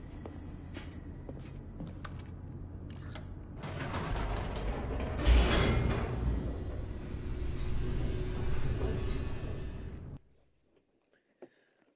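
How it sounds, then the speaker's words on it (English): Elevator descending in the video game The Stanley Parable: a steady mechanical rumble with creaks and ratcheting that swells midway, runs for about ten seconds, then cuts off, leaving a faint click near the end. "The elevator raced downward, plummeting towards an unknown fate."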